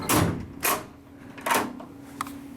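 A hotel room door in Reno opens and shuts with a few sharp clunks and knocks spread out, fairly close, with a quiet room hum between them.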